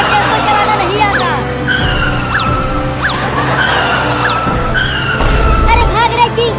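Cartoon tempo auto-rickshaw skidding out of control, with repeated sharp tire squeals and engine noise running loudly through several seconds, mixed with background music and cartoon voices.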